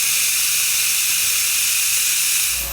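A Mityvac vacuum pump draws excess brake fluid from a motorcycle brake bleeder, a steady airy hiss that holds continuously and close by for under three seconds with no voices.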